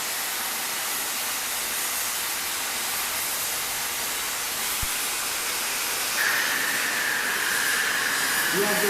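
A gas welding torch cuts through metal, producing a loud, steady roaring hiss that runs unbroken from start to finish, with a faint higher whistle joining near the end.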